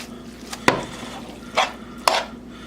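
Butter stirred into pasta in a pan for a chicken roulade dish, with a few soft scraping clinks of a utensil against the pan over a low steady hum.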